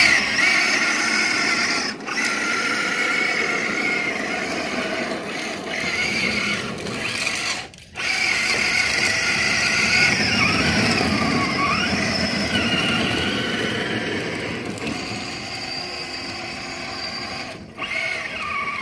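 A remote-controlled car built from a VW hardbody shell drives and drifts, its small motor whining steadily with shifting pitch for about twenty seconds, broken by a few brief scrapes and clicks.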